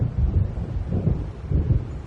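Deep rolling rumble of thunder from a storm coming in a video game, a continuous low heavy roll with a dark stormy wash, loud and close.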